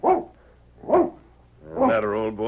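A tired dog in an old-time radio western drama gives two short yelps, then a longer whining cry, close and clear, with speech-like tones mixed in.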